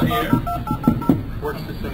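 Telephone keypad dialing tones beep out in a quick sequence of short touch-tone pulses for a test call, close and fairly loud, with a faint voice in the background.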